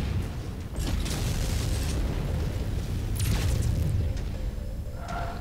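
A battle mech blows apart in MechWarrior 5 Mercenaries, a sustained loud rumbling blast with crackling bursts and a few sharp metallic pops layered over steady combat noise.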